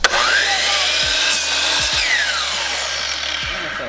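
A saw cuts through wood in a few quick, rasping strokes, loud and close, with a brief knock at the start.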